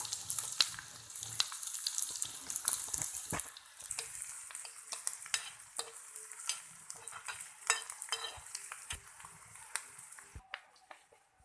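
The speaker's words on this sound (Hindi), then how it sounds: "पहले हम प्याज को फ्राई कर लेंगे और फ्राई करके निकाल देंगे।" Onions fry in a pan with a steady, bright sizzle and frequent scraping stirs, fairly close and continuous, gradually easing toward the end.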